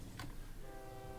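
A faint train horn sounds from a rail line in the transport game OpenTTD, a short whistle blast followed by a steady, humming tone under low background noise.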